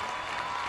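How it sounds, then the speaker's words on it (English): Brief burst of steady, dense applause from a basketball crowd at a girls' Class 4 quarterfinal, rising to their feet to honor the starters, sustained and fairly loud throughout. "you can see the crowd coming to their feet, acknowledging the accomplishments of those starters"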